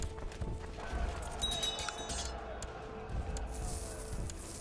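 Horse hooves in the strategy game Crusader Kings 2, a soft rhythmic clatter of galloping over a continuous rumbling background, moderately loud and sustained throughout.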